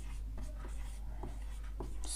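Marker or chalk strokes on a board during a Class 10 math lesson, a faint, quiet scratching in short repeated strokes against low steady background hum.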